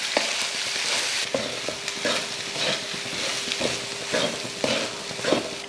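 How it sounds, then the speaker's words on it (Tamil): Tomato egg rice with pepper, coriander and curry leaves is stirred in a pan on a stove over low flame, a spoon scraping in repeated rhythmic strokes over a soft sizzle, close and clear. "சேர்த்து அடுப்பை சிம்மில் வச்சுட்டு நல்லா கலந்து விட்டுருவோம்."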